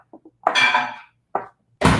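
Raspberry juice poured into a dish in a kitchen, a short splashing pour with a couple of light clinks before it and a sharp clink of the dish near the end, close and fairly loud.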